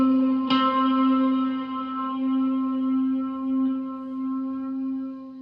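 Electric guitar played on the D string with overdrive and reverb, a picked note that rings out and sustains for several seconds with a strong steady tone, alone, from a tutorial on a live song.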